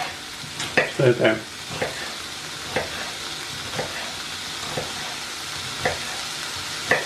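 Smoked bacon sizzles steadily in a frying pan while a spatula stirs it in a few close scraping bursts, and a voice speaks briefly near the start.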